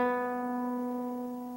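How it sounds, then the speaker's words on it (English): A single classical guitar B string rings in tune, one sustained plucked note with clear harmonics that slowly decays, close and alone. "Now, the second string is called B. It sounds like this."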